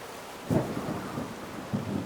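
A thunderstorm rumbles in the video game Whispers of a Machine, with steady rain hiss underneath and a couple of brief low thunder swells.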